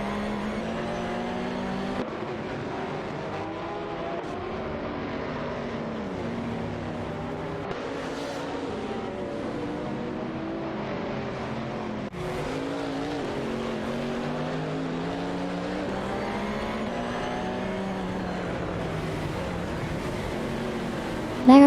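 Racing game cars, an Aston Martin DB9 and a Ferrari FR 130 GTCR, roar steadily with harmonic engine tones that rise and fall through gear changes, continuous and fairly loud with no pauses.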